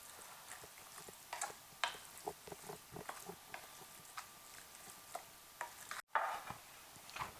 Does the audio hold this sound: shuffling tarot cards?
no